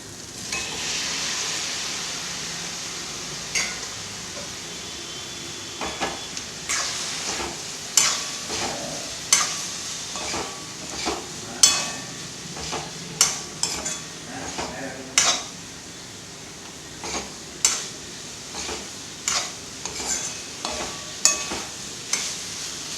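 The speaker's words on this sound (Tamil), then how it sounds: "இதில் உருளைக்கிழங்கு ஆட் பண்ணிவிட்டு கொஞ்ச நேரம் ஃப்ரை பண்ணிவிட்டு" Potatoes with tomato and onion fry in a pan with a soft steady sizzle, punctuated by frequent clinks and scrapes of a spoon stirring against the pan.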